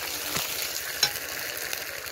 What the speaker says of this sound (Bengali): ওর মধ্যে দিয়ে দিচ্ছি একটু আদা বাটাটাকেও ভালো করে দিয়ে ভেজে নেব